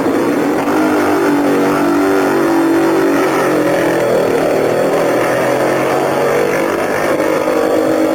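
An Italian Moto Guzzi racing motorcycle ridden by Bob Foster at the 1950 Isle of Man TT, its engine roaring loud and steady throughout, with a rough, continuous drone.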